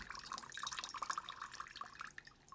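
Tap water runs over lentil sprouts being rinsed, a soft, close trickle with bright splashes and droplets that carries on throughout.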